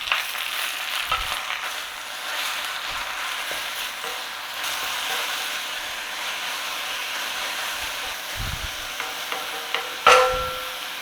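Greens wilt in a hot pan for a chicken lasagna with a soft, steady sizzle and hiss, stirred now and then with light scraping, and a brief clatter near the end.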